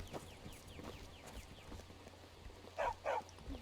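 A dog in the video game Skyrim gives two loud, close barks near the end, after a stretch of quieter footsteps and clopping.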